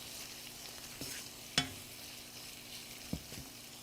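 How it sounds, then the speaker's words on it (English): Onion and garlic frying gently over low heat in a pan for Bangladeshi pan-fried pomfret, a quiet steady sizzle broken by a few soft spoon knocks against the pan. "Now you have to cook like little low heat so the onion gets little softer"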